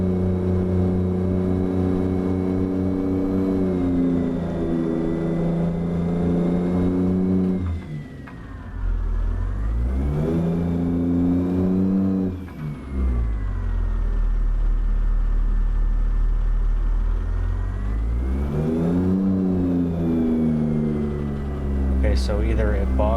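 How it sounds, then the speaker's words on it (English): A truck engine in American Truck Simulator drones loudly and continuously, bogging down then climbing to high revs with rising and falling pitch through shifts, while a person talks over it. "either it bogs down or it wants to rev up really high"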